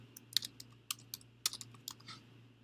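Crisp, irregular keystrokes on a computer keyboard tap out a short burst of typing, close and quiet, against a faint steady hum, with no voices.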